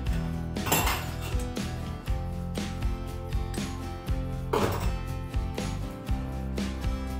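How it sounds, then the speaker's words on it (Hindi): Dishes are washed by hand, with steel utensils and plates clinking and clattering loudly and close over continuous running water, in irregular bursts without speech. "मैंने सोचा अपने बर्तन भी लगे हाथ धो ही लेते हैं।"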